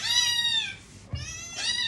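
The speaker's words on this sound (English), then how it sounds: "so don't mind the cats" Indoor cats meowing close by, two drawn-out cries separated by a short pause and a soft thump, loud and alone without talk.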